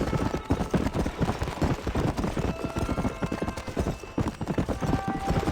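Horse hooves clip-clop at a steady gallop while riding in Red Dead Redemption, a close, continuous rhythmic pounding with no talk over it.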